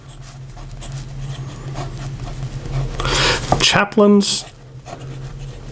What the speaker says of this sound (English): So here we go with the writing sample for the Italix